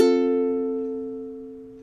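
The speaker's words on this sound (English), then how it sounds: "we're going to immediately pick the open A string." A single open A string plucked on a ukulele right after a downstrum, ringing out cleanly and alone with a long, slowly fading sustain.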